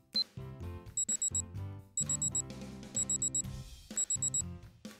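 A kitchen oven timer in a PBS Kids cooking game rings out in repeated bright, rapid bell-like bursts over a cheerful music track, without speech.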